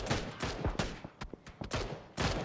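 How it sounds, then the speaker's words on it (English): Bursts of rapid gunfire ring out during a PUBG esports match, with repeated sharp shots in quick succession at varying distances, some louder and some fainter. "IG shooting off non-stop"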